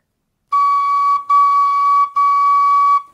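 Tin whistle playing a D sharp, three sustained, clear, pure tones separated by brief breaks, close and loud with nothing else around them.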